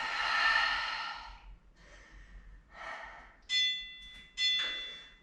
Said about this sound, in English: So big breath in, out